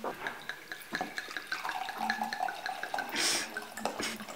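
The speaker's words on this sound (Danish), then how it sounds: "Stig kan ikke lide vin, men alligevel så hælder han det op." Wine being poured into a glass, a close liquid trickle and splash with light dripping and clinking, fairly faint and steady over a few seconds.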